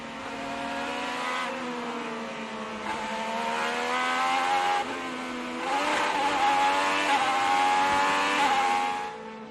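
An IndyCar race car at Indianapolis runs wide with its left rear wheel onto the grass; the loud engine screams close by, its pitch rising and falling as the driver works the throttle, with no voices.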